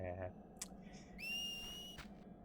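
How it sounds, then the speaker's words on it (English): A high, steady electronic whistle tone from the game Final Fantasy X-2, sustained for nearly a second amid soft clicks and brief chimes over a quiet background. "you want to press X to hear that whistle"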